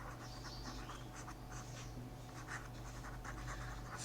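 Pen scratching as an answer is written by hand on paper, a quiet series of short scribbling strokes over a steady low hum, with no talking.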